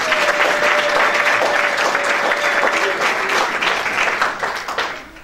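A congregation at a worship service in Lyon breaks into loud, sustained applause, dense clapping with a sustained vocal tone at the start, fading toward the end; close and full, no talk over it.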